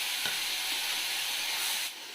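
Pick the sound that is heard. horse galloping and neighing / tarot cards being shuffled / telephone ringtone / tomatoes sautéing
tomatoes sautéing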